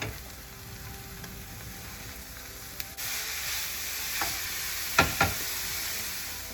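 Mince sizzling steadily in a hot pan, with a spoon scraping and clinking against the metal as it is stirred, a few sharp knocks standing out over the constant frying hiss.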